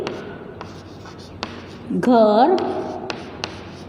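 Handwriting during a grade-two Hindi lesson: soft scratching strokes with a few sharp taps, heard close up beneath a teacher's speaking voice.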